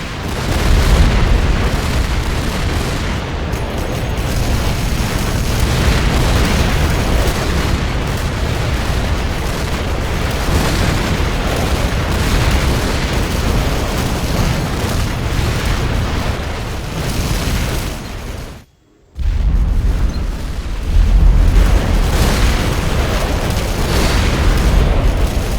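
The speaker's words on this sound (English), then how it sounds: "The bomb's bursting in air" Bombs burst one after another in the Command & Conquer Generals strategy game, a dense, loud rumble of explosions running almost without pause, broken by one brief silent gap before the blasts resume.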